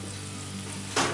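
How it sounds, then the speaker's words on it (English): Rosemary-studded lamb shoulder drops into hot oil in a Dutch oven: steady frying hiss that suddenly surges into a loud, bright sizzle near the end, without talk. "We're going to go ahead and put our lamb shoulder that's all studded with that beautiful rosemary in."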